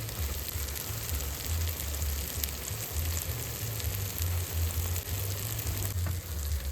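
Mutton curry sizzles and fries steadily in a pan, a continuous close crackling hiss with no pauses and no voices.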